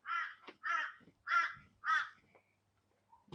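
Crows cawing near a chicken coop, four loud harsh caws in a steady rhythm, close by, followed by quieter rustling and a faint distant call.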